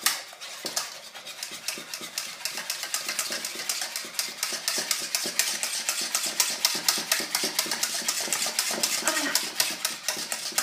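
Sugar-free light chocolate mousse, made only with chocolate, is beaten by hand in a bowl: a fast, even run of clicking whisk strokes against the bowl that carries on for about ten seconds, close and fairly quiet, with no talking.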